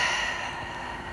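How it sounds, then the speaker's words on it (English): A slow, deep breath drawn in through the nose and let out through the mouth at the start of a full-body Pilates flow, heard as a soft, steady airy rush that stays close and fairly quiet with no talking. "a deep breath in the nose and out the mouth"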